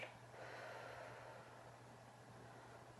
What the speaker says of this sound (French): Et on souffle